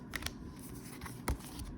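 A deck of tarot cards being shuffled by hand gives a few brief, soft papery flicks and snaps, close and faint, in a quiet room.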